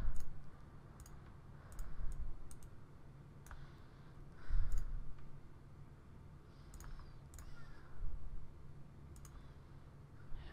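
A computer mouse clicking in scattered single and double clicks at irregular intervals, close and fairly quiet over a soft background hiss, with no one talking.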